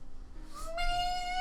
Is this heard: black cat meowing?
yes